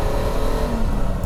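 A BMW 3.0 CSL engine accelerates from low revs around 1,500 RPM. The drone is steady and close, its pitch rising slowly, with no talk over it.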